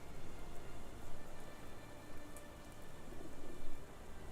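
Rain falls steadily in a video game, a soft, even hiss of drops on surfaces at a fairly low level, with no talk over it.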